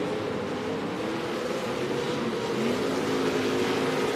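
Off-road race trucks, including Pro 4 class, racing on the front straight at the Crandon World Championships, a continuous loud engine roar with a rising whine as a truck passes near.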